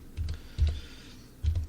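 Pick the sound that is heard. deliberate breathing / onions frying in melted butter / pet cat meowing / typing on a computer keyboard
typing on a computer keyboard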